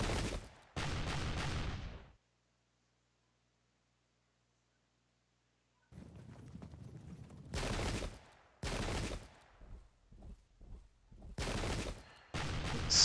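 Volleys of arquebus fire in the Pike and Shot strategy game, loud crackling bursts of massed gunshots separated by a long silent gap, then a rapid run of shorter shots and blasts.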